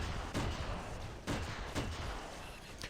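Gunfire in the Halo SPV3 mod for Halo shooter, several sharp bursts spaced unevenly over a low background rumble, fairly faint.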